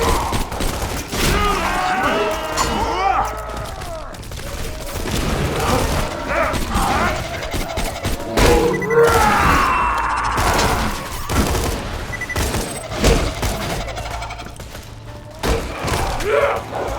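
Borderlands 2 gunfire during a Hyperion-allegiance run as Zer0, with bursts of shots and mechanical clanks and thuds spread across a busy, loud battle mix alongside effects and occasional voices.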